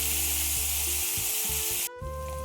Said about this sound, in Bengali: পনিরটা ভাজা করে নেব